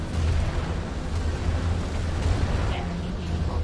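A vehicle explodes in the VR mech game Vox Machinae, a dense rumbling blast with low booming energy that holds steady and loud throughout, with no clear separate bursts.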